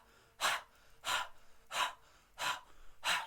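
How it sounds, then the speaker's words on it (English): Five forceful breath exhales from a yoga-class focused-exhale technique, evenly spaced about every 0.7 seconds, close and clear with near silence between each push of air. "we're going to practice a breathing technique"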